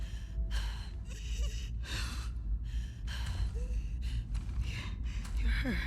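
A character gasps and breathes heavily while inhaling spores in The Last of Us Part 2, a series of ragged, close breaths repeating over a constant low game background rumble.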